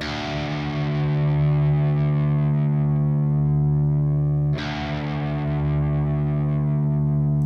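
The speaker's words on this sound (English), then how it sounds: "now it's tuned to a D note, okay? So if you need to listen back to this, this is what your sixth string should sound like." A low open sixth string tuned to drop D on an electric guitar played through heavy distortion rings out long, then is struck again and left to sustain.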